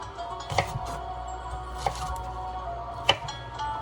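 Kitchen knife trimming the outer skin off fresh ginger on a cutting board, three sharp distinct cuts spaced about a second apart over a steady low background hum.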